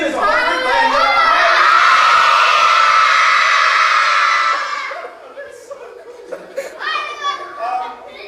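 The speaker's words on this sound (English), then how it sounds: "Should we try it all again as a whole group and yell out, "Hi!"" A big group of children yells out loud together in a sustained, screaming shout lasting several seconds, then quieter chatter and a few scattered voices follow.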